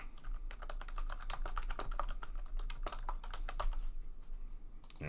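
Clicky keys on a computer keyboard are tapped in quick irregular bursts while a file name is typed, close and fairly quiet, over a low steady hum with no speech.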